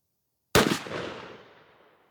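A single shotgun blast from a Mossberg 500 firing a Winchester Longbeard XR 3-inch 12-gauge shell with a 1-7/8 oz #5 payload, a sharp close report that rings out and decays over about a second and a half.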